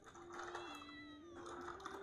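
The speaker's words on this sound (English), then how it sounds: "I heard a meow. Was that a cat?" A cat meows in a thin, drawn-out tone that holds steady and shifts slightly in pitch, faint and set against a soft background hum.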